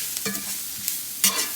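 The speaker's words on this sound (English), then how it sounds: "Let's stir this" A spoon scrapes and stirs a spicy oyster mushroom curry in a pan over a soft sizzle, with two distinct scraping strokes close up and no voices.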